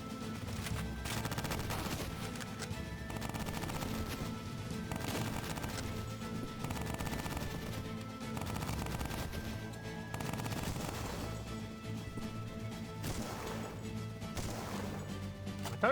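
Rapid bursts of gunfire in the video game Cultic crackle steadily and loudly over dense, continuous game music and effects throughout.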